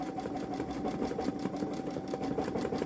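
A Babylock Solaris Vision embroidery machine stitches a butterfly design onto a stretchy sweater, running with a steady rapid mechanical chatter and a constant motor hum, close and uninterrupted, with no voices.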